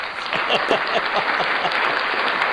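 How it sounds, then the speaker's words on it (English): A crowd applauds steadily, dense clapping at moderate loudness that holds throughout without pause. "yay, applause"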